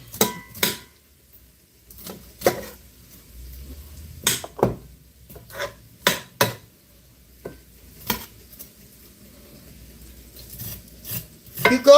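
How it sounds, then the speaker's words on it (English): A knife scrapes down the side of a corn cob stripped of its kernels, drawing out the juice in a series of sharp, rasping strokes separated by short pauses. "You go down the side of the cob to get all that juice out of it after you have cut it off."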